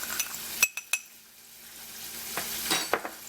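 A spoon clinks and scrapes against a bowl while a seasoning mix for fries is stirred, a few sharp taps and scrapes over a steady background hiss of frying fries nearby.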